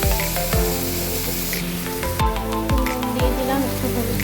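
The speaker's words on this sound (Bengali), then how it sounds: "এদিকে উচ্ছে আলু ভাজাটা বসিয়ে দিয়েছি।" Bitter gourd and potato fry in a pan with a steady sizzle, broken by several sharp thuds and clicks from utensils and pan knocks close by.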